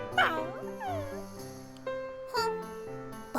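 A dog in the Yumeutsutsu video game barks and yips in a few short, sharp bursts with whimpering tones between them, close and fairly loud.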